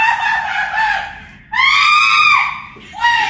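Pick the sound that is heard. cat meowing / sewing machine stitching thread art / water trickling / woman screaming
woman screaming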